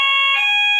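A building fire alarm sounds loud and close, a steady piercing electronic tone with stacked harmonics that holds for nearly a second and shifts slightly in pitch partway through.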